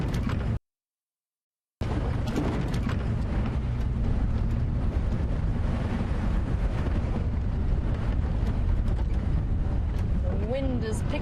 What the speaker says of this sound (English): The wind has picked up once again.